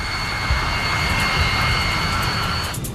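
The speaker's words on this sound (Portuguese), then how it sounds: "O 747 acelera para atingir a velocidade de decolagem de 290 km por hora" A Boeing 747 jet roars under takeoff thrust, a steady loud engine rumble with a high whine running throughout, close and continuous.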